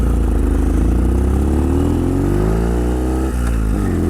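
A four-speed Ural sidecar motorcycle engine revs up steadily with a rising, throbbing pitch, briefly drops at a gear change, then climbs again. It is loud and close, with no talking.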